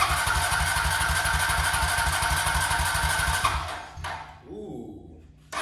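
A 2004 Honda Rancher ATV engine running on starting fluid chugs loudly and rhythmically up close, then sputters and dies out. Faint noise follows, and a voice briefly comes in near the end.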